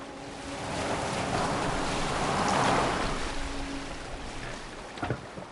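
A boat sails on water in Assassin's Creed Valhalla, a steady washing rush of waves and wind that swells and fades, with a few faint knocks near the end.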